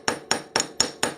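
A hammer strikes a fine silver chain link five times in even succession. The sharp metallic taps are close and clear, with no voices.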